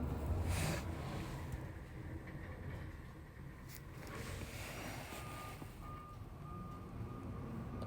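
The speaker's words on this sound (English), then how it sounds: "There's a plow going by." A snow plow truck passes outside, a low rumbling engine drone with faint intermittent reversing beeps, heard from indoors at moderate distance with no talking.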